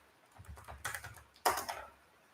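Brisk computer keyboard typing at close range, irregular clusters of key taps with a louder burst midway, no talking.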